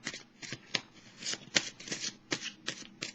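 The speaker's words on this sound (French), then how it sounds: "pendant que je mélange les cartes" Tarot cards riffle-shuffled in repeated quick bursts, a dozen or so crisp papery flutters and snaps close up, with brief pauses between them and no voice.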